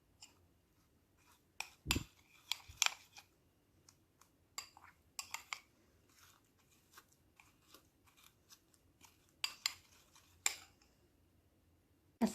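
A utensil stirs coffee face mask ingredients in a bowl, producing irregular scraping and sharp clinking taps at close range, with quiet gaps between bursts.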